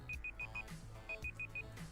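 A timer beeps in two quick bursts of four rapid, high-pitched tones. Each burst is clear and repeats over a steady backdrop of music.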